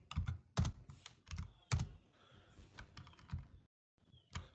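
Keys tapped on a computer keyboard while entering a formula, clusters of quick close clicks in uneven bursts with brief pauses and a short silent gap near the end, quiet and without talk.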